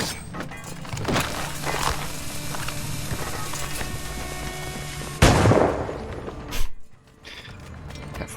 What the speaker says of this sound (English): Careful, more bombs.